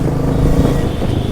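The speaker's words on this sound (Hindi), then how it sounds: "नॉर्मल ट्रैफिक है।" Steady road traffic in a town in Sidhi, Madhya Pradesh, with cars and motorcycles rumbling past at close range, a continuous broadband engine drone with no clear gaps.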